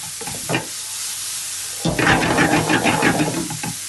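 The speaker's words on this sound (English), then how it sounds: "I'm going to cook this down now for maybe a minute, just to soften up those shallots" Diced shallots fry in butter and olive oil, a few soft knocks first, then a dense hissing sizzle swells up and holds steadily before easing off.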